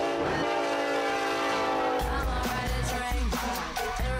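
A loud, sustained train horn blares as an intro sound effect, then gives way to rumbling rail noise with rhythmic clatter and bursts of activity.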